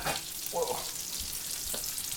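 A ham steak frying in a pan, with a steady crackling sizzle throughout and a few louder spatters and stirring scrapes near the start, close and fairly quiet, without talk.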